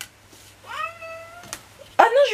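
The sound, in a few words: cat meowing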